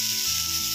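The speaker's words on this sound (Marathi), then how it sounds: "आता आपण याच्यात टाकूया टमाटर, आणि टमाटर छानपैकी भाजूया" Tomatoes sizzle steadily in a hot pan where green chillies were just roasted, a close, dense, even hiss filling the brief moment without any talk.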